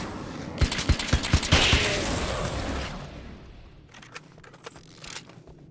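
A flashbang goes off in Alan Wake's American Nightmare, a series of sharp loud cracks and bursts followed by a whooshing ring that fades out, with fainter thumps trailing afterward.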